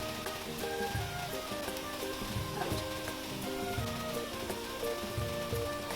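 Sel roti frying in hot oil, a continuous dense sizzle with soft crackles and faint bubbling, steady and close, nothing else over it.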